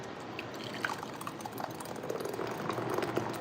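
Freshly blended salsa is poured from a blender into a bowl, making a soft, thick gurgling trickle that builds slightly as it flows, close and quiet.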